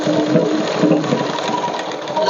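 A sewing machine runs steadily at slow speed for a couple of seconds, its stitching hum continuous and fairly loud, with no voices over it.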